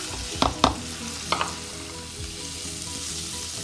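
Okra and green chilies sizzle in a pan, a steady frying hiss broken by a few sharp clatters of stirring near the start, with no voices.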